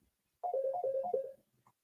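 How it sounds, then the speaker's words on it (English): A telephone rings through a computer monitor's speaker, one short burst of warbling electronic ringtone, clear and fairly close, followed by a faint blip. "the phone is ringing on this monitor"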